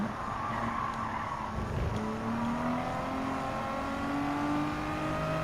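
A Nissan Skyline 2000 GTR in Gran Turismo 7 accelerates hard, its engine note climbing through the revs over a short tire squeal, loud and steady with no voices.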